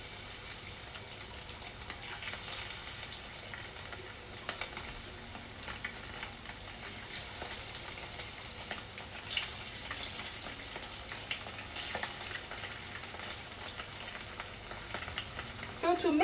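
Pieces of tofu sizzle and crackle in hot oil, a continuous bright frying hiss dotted with small pops, steady throughout, with no talking.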